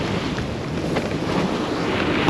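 Steady, roaring wind buffets a sailboat making way offshore at sea in an 11-knot breeze, a continuous broadband rush with water noise mixed in, loud and close with no voices.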